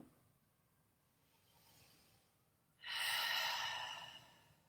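Slow, deep breathing from one person holding a yoga toe squat: a soft, faint inhale, then a louder, airy exhale that lasts over a second in a quiet room.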